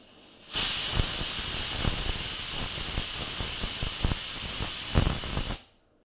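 Squash hits a hot pan and sizzles loudly, a sudden burst of hiss that holds steady for several seconds with faint stirring clicks, then cuts off abruptly.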